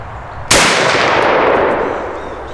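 A single 50 caliber rifle fires one very loud, sharp blast that rings out into a long, slowly fading roar of echo.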